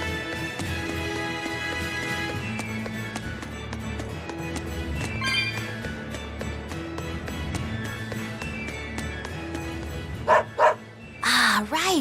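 A dog barking in the Tales of Berseria video game, a run of short repeated barks under game music and background effects, with characters talking over it.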